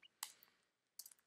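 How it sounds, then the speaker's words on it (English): Quick, faint keystrokes on a computer keyboard as code is typed, a short burst of clicks followed by a pause and then a few more taps, heard alone and up close. "I'm just typing this real fast"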